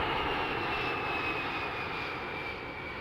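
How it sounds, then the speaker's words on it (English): A small jet passes overhead near the Long Beach Island shore, its engine a steady, loud roar with a thin whine on top that fades slightly as it goes by. "Cool little jet flying by here, so I don't know if it's gonna affect the sound"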